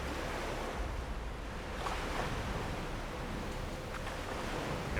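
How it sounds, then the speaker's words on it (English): Rough sea in Mount & Blade II: Bannerlord, a steady, heavy wash of surf and wind with no clear breaks between waves, continuous and fairly loud, with no talking. "Now the sea state is pretty aggressive right here"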